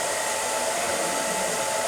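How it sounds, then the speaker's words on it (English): A handheld hair dryer on its cold setting blows a steady, loud, even rush of air throughout, used during a salon blow-dry on a roller-set hairstyle, with no voices. "turn off the dryer"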